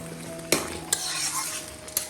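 Taro greens cooking with a fish head in a pan, a steady soft sizzle of frying under a few sharp scrapes and clinks of a spoon stirring against the pot, close by.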